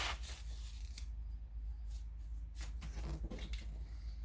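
Scissors snip through fabric while two lining pieces for an upper gusset are cut out, a series of short, close, crisp cuts and rustles at an irregular pace, quiet and with no talk.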